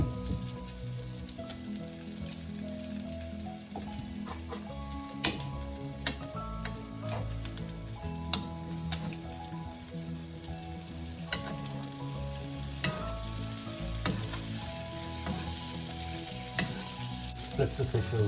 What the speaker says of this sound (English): Then fry for about 3 or 4 minutes on each side.